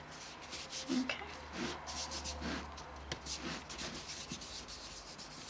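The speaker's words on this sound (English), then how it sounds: "So I'm just rubbing it now to smooth it out a little bit" Hands rub rolled fondant smooth over a bride doll cake, making soft, repeated brushing strokes that are quiet, close and irregular, with faint handling taps between them.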